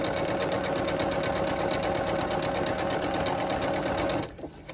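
A sewing machine stitches a buttonhole at a fast, constant whir with a rapid rhythmic needle chatter, loud and close, running steadily before slowing and stopping near the end.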